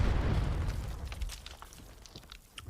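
A cruise missile detonates in a tactical shooter match, a loud booming explosion that rolls out and decays over a couple of seconds, followed by scattered crackling debris.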